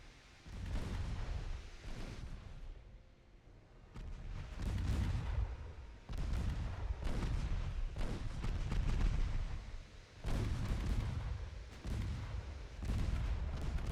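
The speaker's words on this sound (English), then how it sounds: "I nailed him with the main gun." Heavy warship main guns firing in the naval battle game Ultimate Admiral Dreadnoughts, a string of loud, deep booming blasts about every two seconds, each rolling into a rumbling tail, with no voices.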